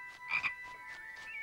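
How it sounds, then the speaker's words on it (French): A toad croaks in the Harry Potter and the Philosopher's Stone PS2 game, a few short bright croaks over a steady tonal game background, moderately faint with no talking. "crapaud de Neuville"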